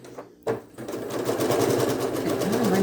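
A domestic sewing machine stitches steadily while quilting triangle squares, a continuous mechanical whir that steadies after a brief pause and carries on alone, close and fairly loud.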